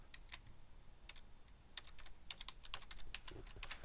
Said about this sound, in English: I'm going to just type test scores